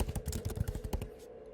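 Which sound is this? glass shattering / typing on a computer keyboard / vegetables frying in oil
typing on a computer keyboard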